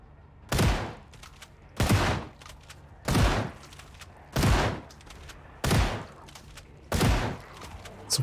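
A shotgun fires in the zombie survival game Project Zomboid: six loud single blasts at a steady rhythm about every 1.2 seconds, each with a short echoing tail, and no one speaking.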